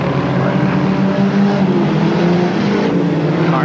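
Race cars at Creek County Speedway in Oklahoma, 1991, keep up a loud, steady engine roar with layered droning tones and no break in the noise.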